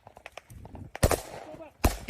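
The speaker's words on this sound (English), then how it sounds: "that's a grenade used by grenade launcher attached to the rifle, to the AK, probably" A rifle-mounted grenade, probably fired from an AK's launcher, bursts very close in a combat zone in Ukraine: two sharp, loud blasts about a second apart. Each one rings out briefly, and faint voices are heard before the first.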